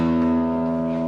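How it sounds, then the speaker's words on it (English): Open low E string plucked on a guitar, one sustained note ringing with rich steady overtones, close and clear with no voices. "So your low E sounds like this."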